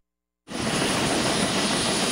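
A refurbished helicopter of the Philippine Air Force's 505th Search and Rescue Group, bought from the United States, cuts in abruptly after a moment of silence as a loud, steady, broadband engine and rotor roar.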